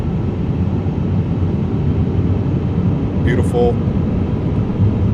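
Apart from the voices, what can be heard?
Airbus A350 engines spooling up, from video game MSFS 2024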